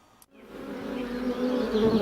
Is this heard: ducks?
no